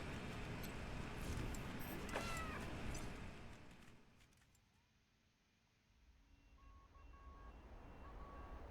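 Cats meowing in the Wasteland 3 video game, a few thin cries over a steady murmur of game ambience that dips low for a moment before rising again.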